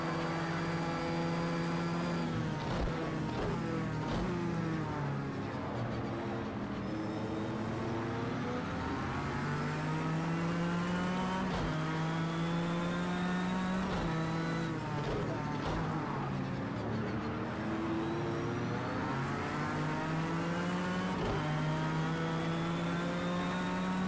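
Race car engines howling in a racing video game at night, a dense pack of revving, shifting engine tones rising and falling continuously and loud throughout.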